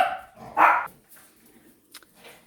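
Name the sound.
dogs barking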